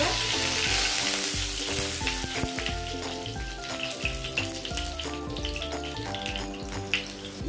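Tomatoes fry in hot mustard oil with cumin and dried red chilies, giving a loud, steady sizzle and crackle with occasional stirring scrapes, close up and without talk.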